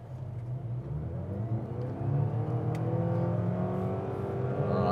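A Mazda CX-80 plug-in hybrid in top-spec Azami trim accelerates in reverse, a rising electric whir with climbing motor tones and road noise swelling over five seconds, steady and close with no talk.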